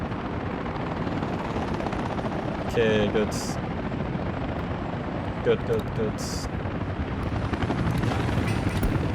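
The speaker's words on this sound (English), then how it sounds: "We need loads of helicopters to be slowing this down while the fire truck gets over." Helicopters drone in a dense, continuous rotor roar while fighting a fire in the city-building game Workers & Resources, with a few brief tonal game alerts and someone speaking briefly over it.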